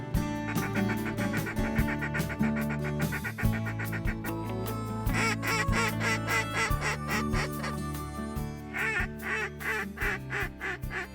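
Mallard ducks quack loudly and repeatedly in a dense, overlapping chorus, with bursts of calls from several birds at close range in a marsh setting.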